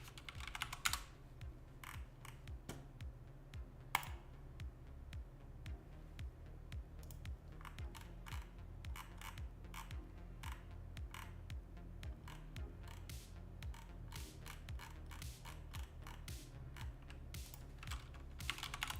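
Steady typing on a Ducky mechanical keyboard, quiet close clicks and clacks in an irregular rapid rhythm with occasional louder strikes, no talking.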